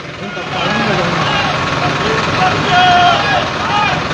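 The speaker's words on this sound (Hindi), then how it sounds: "सर्विस रोड से दिल्ली चुंगी से होते हुए अब जो ट्रैक्टर का काफिला है वो पहुंचेगा दोबारा से पानीपत करनाल सर्विस रोड पर" A convoy of farmers' tractors rumbles along a service road in Gharaunda, with a steady engine drone rising after a brief start and mixed with voices nearby.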